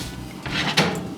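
An oven door swings open as a taco hotdish goes in to bake at 325 degrees: a quick, close scrape and a soft thunk, then a second brief knock, in a quiet kitchen.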